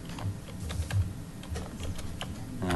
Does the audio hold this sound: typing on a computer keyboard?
yes